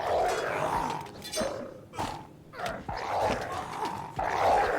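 Dogs attack in the video game Kenshi with repeated snarling growls and short barking bursts, layered over the muffled thuds and clamor of a close-range fight.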